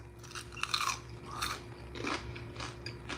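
Crunchy chewing and biting while eating at a mukbang, several close, crackly bites and crunches spread over a few seconds against a low background murmur, with no clear talk.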